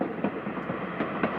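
Rhythmic clickety-clack of a train ride in the cozy game Little Witch in the Woods, a steady rolling rumble with regular wheel clicks, no voices.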